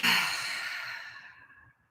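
One long, deep exhale during a calming breathing exercise, close and airy, fading gradually into silence.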